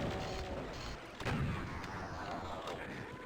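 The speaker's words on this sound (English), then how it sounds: "Super shotgun." Super shotgun blasts in a Doom-style shooter game boom heavily and continuously, with loud low thumps overlapping through the stretch and no talk over them.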